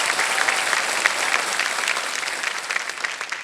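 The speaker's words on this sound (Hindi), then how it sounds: "एक बार फिर तालियों के साथ हम इनका अभिनंदन करते हैं, स्वागत करते हैं।" A studio audience on the quiz show Kaun Banega Crorepati applauds steadily throughout, a dense, even wash of clapping with no talk over it.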